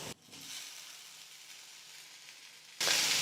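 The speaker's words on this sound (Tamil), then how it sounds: "வெங்காயம் நல்லா வதங்கினதுக்கு அப்புறமா இது கூடவே வேக வச்சு எடுத்து வச்சிருக்கிற எல்லா காய்கறிகளையும் சேர்த்துக்கிறேன்" Onions and mixed vegetables sauté in a hot pan for a Tamil bonda snack, giving a steady close sizzle and hiss that jumps louder near the end as more vegetables go in.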